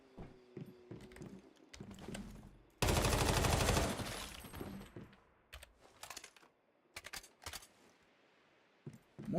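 A new gun firing in the video game Once Human, one dense burst of rapid automatic fire lasting about a second, surrounded by scattered clicks and short sharp sounds.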